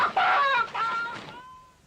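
A single brief chicken cluck, a close, loud, nasal squawk lasting under two seconds that trails off at the end.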